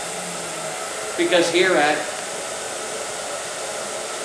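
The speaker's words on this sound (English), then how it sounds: "have I ever shared with you how to use a blow dryer?" A handheld blow dryer drying a client's hair in a salon, a steady broad whoosh running throughout, with a brief spoken phrase over it partway through.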